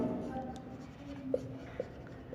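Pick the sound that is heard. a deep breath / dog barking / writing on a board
writing on a board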